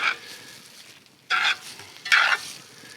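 Eggs frying in a cast iron skillet, heard as three separate short bursts of sizzling hiss, each louder than the last, with a quiet background between them.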